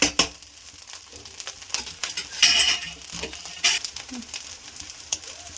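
Fried rice being stirred in a hot pan, with a steady sizzle broken by scraping and clanking spatula strokes and a few louder bursts as the rice is turned over.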